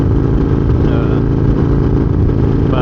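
Motorcycle engine droning steadily while riding, a loud, close, continuous mid-pitched hum with wind rush, unbroken for the whole moment.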